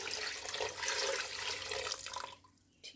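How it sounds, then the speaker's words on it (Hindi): Water pours steadily from a tap into a pot holding about a kilogram of small goat meat, a dense rushing flow that cuts off near the end, leaving a brief splash. "और इसमें मैं डाल रही हूँ पानी।"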